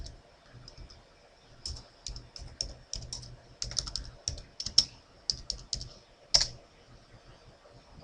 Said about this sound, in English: make sure we type things right